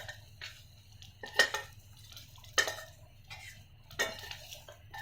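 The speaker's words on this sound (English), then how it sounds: "Transfer the roasted soya chunk to the plate" Roasted soya chunks are moved from a pan to a plate with a metal utensil. Several distinct scraping clinks of metal on the pan ring out over a low stove hum, close and fairly quiet.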